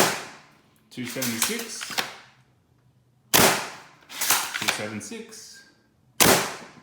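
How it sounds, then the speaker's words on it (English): Adventure Force Pro foam dart blasters fire three sharp, loud bursts, each a quick mechanical clatter of shots, separated by pauses while a voice reads out numbers. "Alright, firing Adventure Force Pros."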